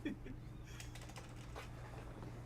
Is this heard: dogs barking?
no